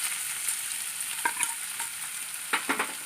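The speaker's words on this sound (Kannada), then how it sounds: "ಈಗ ನಾನು ಈರುಳ್ಳಿ ಹಾಕೋತೀನಿ" Onions and chillies fry in a pan, a steady bright sizzle with occasional stirring scrapes and crackles, close up with no voices.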